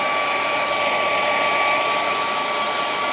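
A hair dryer blows steadily to dry fresh paint during boat painting, giving a loud, continuous whine and rushing hiss with no break and no voices.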